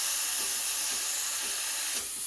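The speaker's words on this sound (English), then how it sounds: "putting the wand at an angle and spinning the milk in a circle, keeping the wand close to the surface" A Breville Barista Express BES870 steam wand hisses steadily as it spins milk in a circle near the surface, a continuous airy roar building toward full pressure with no talk.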